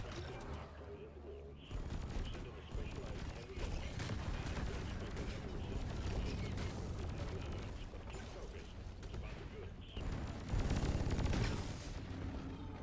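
Sustained automatic gunfire in Deep Rock Galactic, a dense continuous rattle of shots running for many seconds with hardly a break, loud and mechanical, with a voice occasionally over it.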